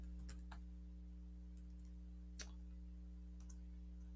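Light, sparse clicks of keys being pressed on a computer keyboard, a few isolated taps and short pairs spaced out across the quiet moment over a constant low electrical hum.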